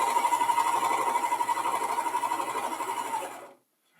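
A serger sewing machine stitches fabric in a fast, steady rattling hum with a rapid pulsing rhythm, close by, then stops abruptly.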